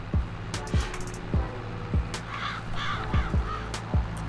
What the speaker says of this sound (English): We got crows.